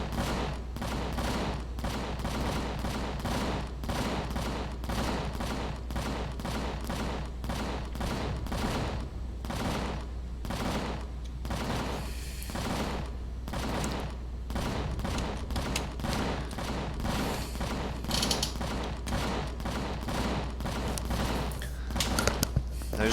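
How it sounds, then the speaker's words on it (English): Sustained gunfire in the Empyrion Galactic Survival video game, rapid repeated shots in long unbroken bursts over a constant low drone, loud and close for the whole stretch. "We'll just keep firing on them until they all die."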